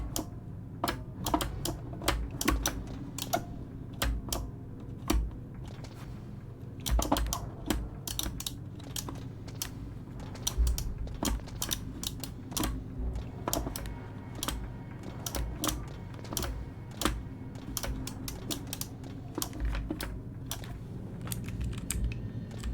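Rapid typing on a computer keyboard, with a steady stream of sharp clicks and key taps over a constant low hum, close and fairly loud, with no talking.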